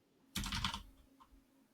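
Computer keyboard typing in a quick burst of several close, crisp keystrokes lasting under half a second, then a faint single key tap near the end, with quiet room tone and no talking.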